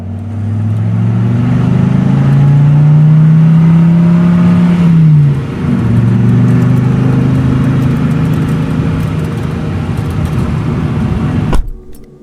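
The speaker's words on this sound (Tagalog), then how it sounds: "naisipan ni Totong ihinto ang sasakyan saka siya bumaba" A car engine runs loud and steady, swells in pitch as it revs, dips briefly, settles back to a steady drone, then cuts off abruptly near the end, with no voices.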